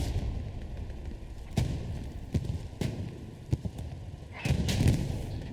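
Tank cannon shots in a Hell Let Loose match, a Panzer IV dueling an American Stuart medium tank: several sharp, loud booms at irregular intervals over a constant rumbling battlefield background, with a heavier blast near the end.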